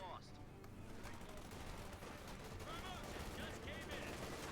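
Anti-tank guns fire in a Company of Heroes 2 battle, with a dense, continuous clatter of gunfire and explosions under a commentator's voice.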